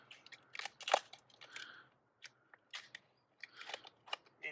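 Scissors snipping slits into the plastic lid of a homemade wormery, several crisp, close cuts in short bursts with pauses between them, no talking.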